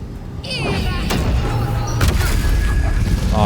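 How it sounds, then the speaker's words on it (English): A fiery spell explosion from the Glyph of Fire in Baldur's Gate 3 bursts with a loud boom and heavy thud, followed by crackling impacts and a second sharp blast, with no talking over it. "Let's do Glyph of Fire here."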